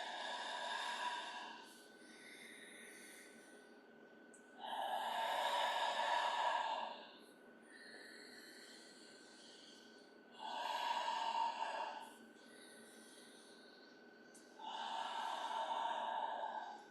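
Slow, deep yoga breaths during a therapeutic spinal-health class, each long audible inhale and exhale lasting about two seconds, breathy and close, alternating with quieter pauses in a calm steady rhythm, no talking.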